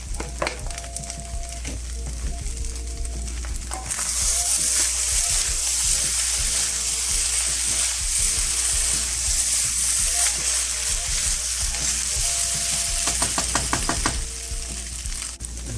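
Scallions hit a hot pan for hotdog fried rice and burst into loud, steady sizzling that continues for about ten seconds, with stirring clatter and softer frying before and after.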